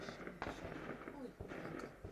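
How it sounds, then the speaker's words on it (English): Fireworks popping outdoors, a couple of sharp bursts standing out from a steady crackling wash of background noise and faint crowd sound. "The fireworks going off."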